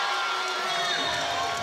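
A crowd at an NCAA men's volleyball match in Los Angeles cheers and whoops loudly and steadily for a moment, with no clear words rising above the noise.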